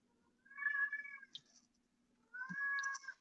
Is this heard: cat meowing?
yes